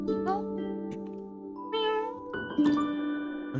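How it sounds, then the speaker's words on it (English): Cat meowing from a terminal in the game Wuthering Waves: a few rising, questioning meows layered over game music and chime-like tones, fairly close and clear. "From the terminal comes the anxious inquiry of a cat"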